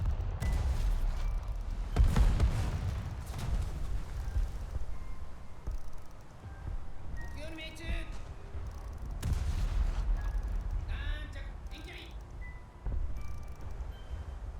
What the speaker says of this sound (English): It's their secondary batteries that are shooting at me